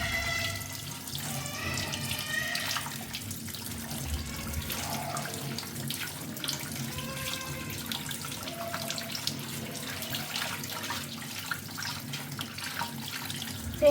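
Cut colocasia (taro) pieces are rinsed under a running kitchen tap, a steady close rush of water with splashing and the occasional clatter of pieces being handled in a sink.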